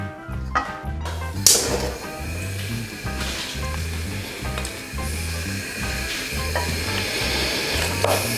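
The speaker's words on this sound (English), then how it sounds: "we're going to melt that down and saute these vegetables until they are translucent" Vegetables sauteing in a stick of melted unsalted butter for a crawfish and shrimp etouffee give a steady close sizzle with stirring scrapes and a sharp clatter early on, with no talking.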